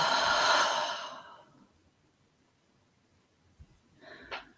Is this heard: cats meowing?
no